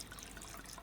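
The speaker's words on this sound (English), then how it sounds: "Have to pour a little bit of that wine." Wine is poured into a glass in a soft, steady trickle, faint and close, with no voices over it.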